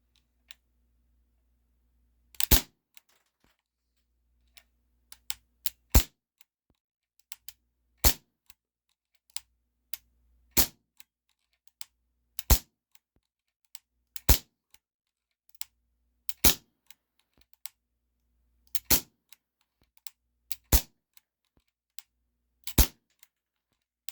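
A Ruger P345 CO2 airsoft pistol fires .12 gram BBs, about ten sharp, loud cracks spaced a couple of seconds apart, each followed by a faint click, in otherwise quiet surroundings.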